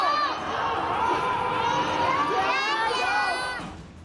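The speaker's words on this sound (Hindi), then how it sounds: "लोग अपने घरों के अंदर से चिल्ला रहे हैं" Residents of Wuhan shouting from inside their homes, a mass of distant voices calling and chanting together, echoing steadily across the whole stretch before fading at the end.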